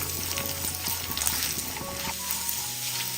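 Raisins frying in hot ghee, a steady close sizzle and crackle with small pops running throughout, no voices.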